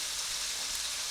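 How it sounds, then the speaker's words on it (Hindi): Potatoes frying in hot oil for an aloo moongre sabzi, giving a steady, even sizzling hiss that holds at one level throughout with no voices. "ये मेरे आलू फ्राई हो गए।"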